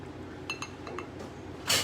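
Light clinks of a spoon or ice against a glass while a brown sugar bourbon peach cocktail is stirred, a few soft taps in quick succession ending in a brighter rattle, quiet and close.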